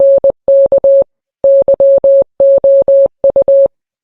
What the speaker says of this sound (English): Is this Morse code actually remorse code?